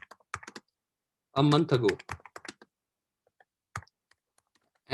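Keys clatter on a computer keyboard as a letter is typed, scattered quick clicks in short bursts with pauses, while someone speaks briefly over part of it.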